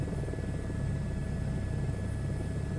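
A high-performance helicopter in a VR video game gives a steady, loud rotor-and-engine drone with a dense low rumble that holds evenly throughout, with no talking.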